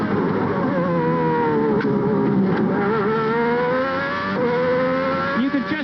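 A Formula 1 car with a Lamborghini V12 engine screams at about 13,000 rpm at the 1990 German Grand Prix at Hockenheim. The loud, close, continuous harmonic engine wail dips and recovers in pitch with shifts, with no talk over it.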